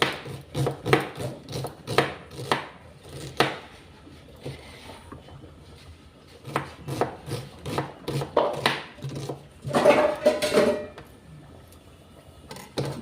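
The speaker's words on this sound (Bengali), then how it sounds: "এদিকে আমি পেঁয়াজগুলো কেটে নিচ্ছি।" A knife chopping onions on a board in a home kitchen while caramel cooks, a rapid series of sharp close taps in bursts with short pauses, loud over a faint background.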